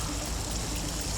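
Seawater rushes steadily along the side of a fishing boat as a barracuda is pulled alongside, a close, continuous gurgling flow with no talk over it.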